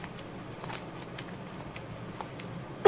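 Tarot cards are shuffled in a series of soft, quick riffling bursts, close and fairly quiet, ending with a sharper snap.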